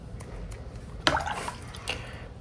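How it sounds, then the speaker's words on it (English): Wet splatter of bright green watercolor paint, mixed with yellow, flicked onto paper: a sharp spattering burst, then a fainter second flick, close and quiet. "Now I'm gonna mix that green with my yellow and splatter that bright"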